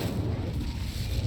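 Incendio, a fire spell in the game Hogwarts Legacy, bursts out as a brief, rumbling whoosh of flame, loud and close, with no talk over it.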